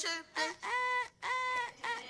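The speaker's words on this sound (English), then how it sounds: "The birds are chirping." Outdoor birds call close by in several loud, drawn-out honking, clucking cries with short pauses between them.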